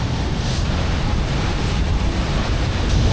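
Cold mountain stream water rushing hard under high pressure at about 12,700 ft in the Himalayas near Beas Kund, a steady loud broadband roar close to the microphone with some wind buffeting and no talk.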